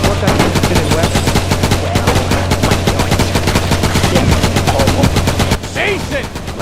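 Rapid bursts of video game gunfire in RoadKill on PS2, automatic shots crackling in dense runs over a steady engine drone for about five and a half seconds, then easing off.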